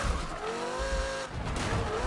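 Tires squeal in a sustained screech as a car slides through a long drift in the Need for Speed racing game, with steady engine roar underneath and the squeal pitch wavering throughout.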